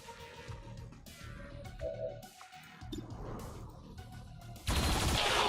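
Turret gunfire in the XCOM 2 video game, heard as a burst of game weapon fire and impacts mixed with soundtrack, ending in a loud, broad crackling blast near the end.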